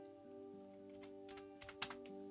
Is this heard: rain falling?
no